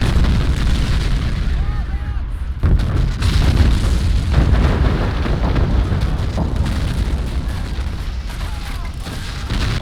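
Booming tank cannon fire and explosions in the Men of War strategy game, a dense, continuous battle rumble with repeated heavy thuds that stays loud throughout.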